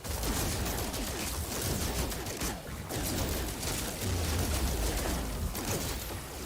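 Rapid, continuous gunfire from a player's weak gun rattles loudly in No Man's Sky during a fight against corrupted sentinels, forming a dense, unbroken barrage with short lulls.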